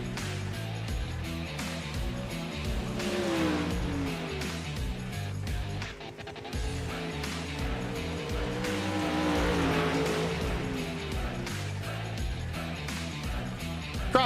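A dirt late model race car on a qualifying lap at Eldora Speedway, its engine roaring steadily as it rises and falls in pitch around the track, loud and continuous, with a brief dip near the middle.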